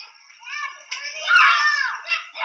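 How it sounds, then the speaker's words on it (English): Children shrieking and yelling in a chaotic household gathering, high-pitched voices rising and falling continuously through the short stretch, loudest near the middle. "There's kids screaming everywhere."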